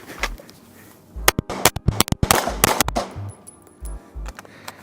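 Pistol gunshots on an outdoor range during the Accelerator Drill, with a rapid string of sharp, loud, close reports coming in quick pairs and bursts, each trailing off in a short echo.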